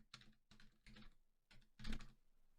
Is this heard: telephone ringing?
no